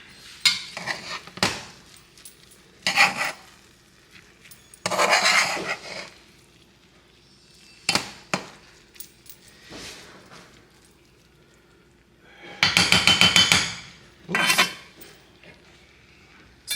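Rice being stirred in a cooking pot for arroz con salchicha with Vienna sausage: repeated scraping and clinking bursts of a spoon against the metal pot, separated by short quiet pauses.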